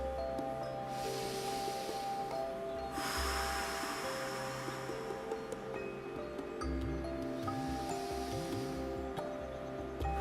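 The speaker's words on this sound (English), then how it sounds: "Let's take 3 deep breaths." Slow deep breaths are drawn and released while lying on the ground during a mobility workout. Several soft, airy breaths are heard over a steady droning background of music.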